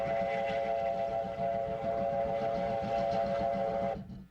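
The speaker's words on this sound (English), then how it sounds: "when this train pulls out of Alice Springs in the Northern Territory of Australia" A train pulls out of Alice Springs in Australia's Northern Territory, its steady horn or whistle tones sounding loud over low rumbling and rolling wagons for about four seconds before cutting off abruptly.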